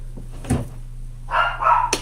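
Pet dogs indoors let out a short, muffled bark or yip, followed by a brief whining vocalization and a sharp final yelp, all fairly close and without talking.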